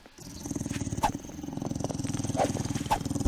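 A low, rumbling dog growl from the survival video game 7 Days to Die rolls on steadily at moderate volume, with a few sharper thuds and clicks scattered over it.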